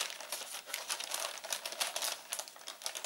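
Plastic wrapper around a girls' magazine being opened, a dense run of crinkling and crackling rustles, close and fairly quiet, continuing steadily for a few seconds with no talk.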